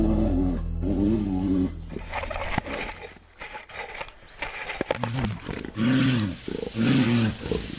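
A bear caught in a poachers' steel jaw trap in the woods gives loud, harmonic roars and groaning bellows in repeated bursts, with a quieter pause of scraping and shuffling midway.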